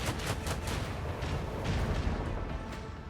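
Rapid ship weapon salvo from Warhammer 40,000: Rogue Trader, a dense run of booming shots in quick succession over a constant roaring bed of noise, loud and continuous with no pause.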